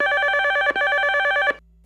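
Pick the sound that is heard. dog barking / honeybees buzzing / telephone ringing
telephone ringing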